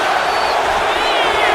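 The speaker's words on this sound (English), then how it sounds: "the crowd doesn't like it. You can hear the audible boos over the top rope" Dense crowd roar of booing in the wrestling video game WWE 2K26, loud and steady throughout, a broad sustained wall of jeering voices.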